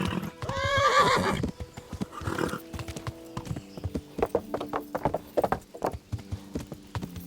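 Horse hooves clip-clopping at a steady riding pace during cross-country travel in Kingdom Come: Deliverance, opening with a loud neigh, then rhythmic hoof beats over faint background sounds.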